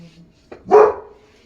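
A single loud dog bark rings out close by after a short faint lead-in sound, then quickly fades into near silence.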